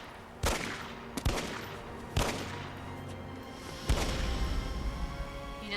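Repeated gunshots from a gun fired again and again in the video game 428: Shibuya Scramble: four sharp, loud cracks spaced irregularly about a second apart, the last trailing into a sustained rumbling blast.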